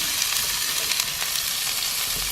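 Tofu sizzles loudly in a hot oiled pan, a dense continuous frying hiss close up with no break and no talk over it.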